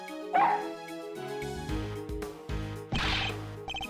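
Missile, a small dog in the video game Ace Attorney Investigations 2, gives a few sharp yips and barks over looping game music, each bark loud and brief.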